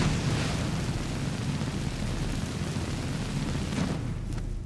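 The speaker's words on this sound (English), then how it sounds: "I'm going to try a combination of flames, and then we're going to put down our fire oil here as well." A fire magic spell combined with fire oil bursts in a video game, a dense roaring blast of flame that rumbles steadily and loudly throughout without any talk.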